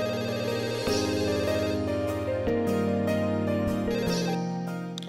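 A telephone rings when a home landline is dialled, playing a steady electronic ringtone melody of layered sustained tones that runs without a break, clear and close with no voices.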